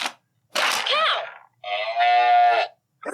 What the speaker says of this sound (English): Yes, and it was cow.